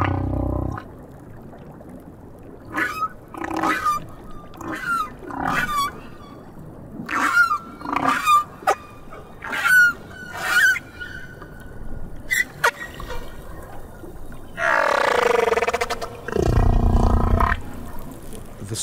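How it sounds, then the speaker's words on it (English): Humpback-style whale song from the South Pacific: a series of moaning calls, upswept whoops and tonal cries spaced a second or two apart, ending with a long, loud, rich groaning call, no voices. "The song that Petty Point hears in the South Pacific is wondrous."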